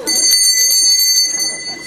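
A bell rings steadily and brightly for about two seconds at a Slovenian ceremony christening grape must into wine, with a faint murmur of people beneath it.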